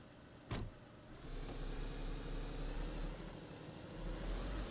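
Engine of the Gunter car in the video game DayZ, a low steady hum that thickens after a sharp click near the start and holds at moderate loudness throughout.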